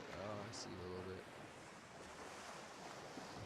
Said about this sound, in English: I hear the ocean.